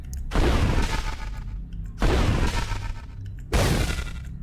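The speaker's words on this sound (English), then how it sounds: "Fire straight through, hitting the skeletal brute." Three loud, booming rifle shots in Cataclysm: Dark Days Ahead, evenly spaced about a second and a half apart, each with a long rolling tail and no talk.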